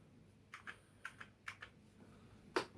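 Keys tapped on a Commodore Amiga A500 keyboard during a repair check, a quiet sparse run of about seven distinct clicks in loose pairs with short gaps, the last one louder, against faint background hiss.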